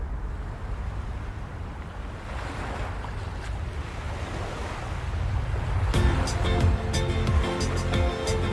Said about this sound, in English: Small waves crash on shore.